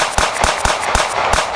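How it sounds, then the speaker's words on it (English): Ruger 10/22 rifle firing in a Roblox game, six sharp, snappy cracks in quick, slightly uneven succession, each a bright broadband pop over a steady background hiss, close and loud with no talking. "this is the 1022 Ruger"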